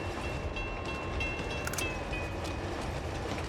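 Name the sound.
train in the Uncharted 2 train level, video game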